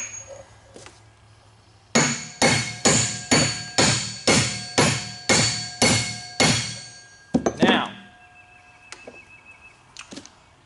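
A hammer strikes repeatedly against a bearing being fitted onto the shaft of a 1972 International Harvester Cub tractor under restoration. About ten sharp, ringing metallic blows land in an even rhythm, close up, then a few scattered clinks follow.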